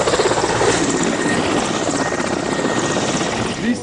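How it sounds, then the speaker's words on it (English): Military helicopter arriving at a Ghana Armed Forces training exercise to airlift injured soldiers, its rotors producing a loud, close, steady throbbing roar throughout, with no talking. "they've called in the chopper to airlift them to a nearby military hospital"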